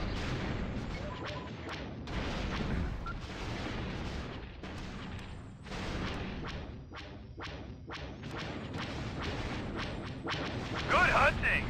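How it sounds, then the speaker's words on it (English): Turbolaser fire fills a space battle in the video game X-Wing Alliance as a continuous barrage of sharp cracking blasts, booming impacts and whooshing streaks that overlap without pause. "The turbo lasers are targeting me."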